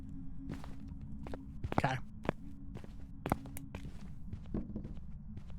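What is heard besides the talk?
ghost footsteps in the video game Phasmophobia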